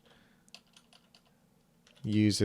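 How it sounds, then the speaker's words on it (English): Keys clack on a computer keyboard in a quiet room, a run of light irregular taps, before a voice begins speaking loudly at the end. "I'm typing this out for you."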